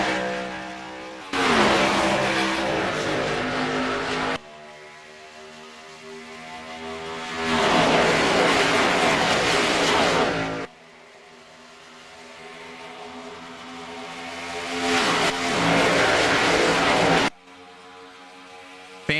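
Race cars at the Indianapolis Brickyard 400 roar past in loud successive waves at the green-flag start, engines rising and cutting off sharply as the pack sweeps by near and then fades, with no talk heard.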